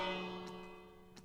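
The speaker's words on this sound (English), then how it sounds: "I'm just going to go around ringing the bell to make sure I got all the raiders taken care of" A village bell rung in the video game Minecraft gives a single soft metallic clang that fades away, with a faint second strike near the end.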